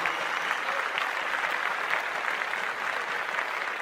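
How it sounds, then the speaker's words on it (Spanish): Sustained applause from a church audience after a live music performance, dense steady clapping filling the hall at an even, loud level throughout with no break. "quiero pedir un fuerte, pero muy fuerte aplauso"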